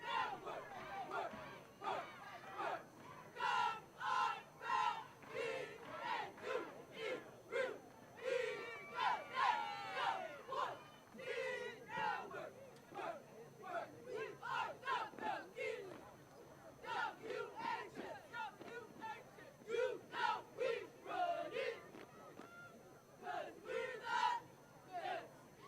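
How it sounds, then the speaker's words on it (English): Cheerleaders at a high school football game, Wichita Heights against Andover, chant in rhythmic bursts of shouted call-and-response, a repeated group cadence rising and falling over a quiet outdoor crowd for the full stretch. "We'll turn the microphone up on the cheerleaders and let you listen to them for a minute."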